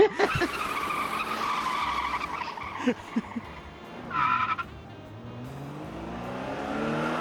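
A car peels off with a tire squeal and rising engine revving, the skid sharp and fairly close before the motor pulls away, amid steady background noise.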